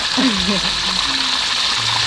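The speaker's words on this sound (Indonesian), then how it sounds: "tingali goreng ieu goreng tempe tah" Tempe sizzles and crackles steadily in a frying pan at an outdoor traditional Sundanese village food stall, a constant bright hiss with a voice briefly over it.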